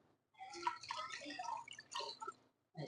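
Water poured into a steam cooker for a meat steam roast, a soft splashing, gurgling stream lasting a couple of seconds, close but fairly quiet, with a short splash after a pause.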